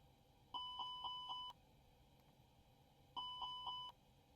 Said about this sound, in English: Fire alarms checked.